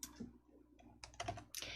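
A few soft computer clicks land inside a text box in a word processor, quiet and close, scattered irregularly over a faint background with no talk.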